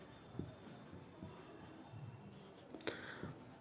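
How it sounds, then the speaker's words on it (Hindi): Chalk or a marker writes on a board in short, scratchy strokes, a series of separate bursts with brief pauses between them, close and moderately loud, with a faint voice underneath. "ब्रह्मांड लिख देते हैं"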